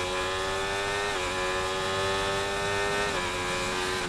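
Formula 1 race cars in the F1 24 video game, career mode race: a steady, loud, high engine whine that dips briefly twice with gear shifts, continuous with no voices.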